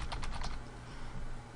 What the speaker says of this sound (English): if I type on the keyboard